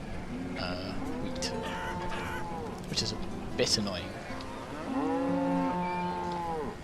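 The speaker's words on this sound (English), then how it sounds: "That's a lot of cows." Herds of cattle in the village-building game Banished moo repeatedly in long, drawn-out calls, several overlapping, while someone talks over them.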